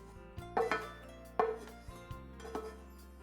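Onions tipped into a pot of ground beef for chili land with a few clanks and knocks of a utensil against the pot, spaced out over a quiet background.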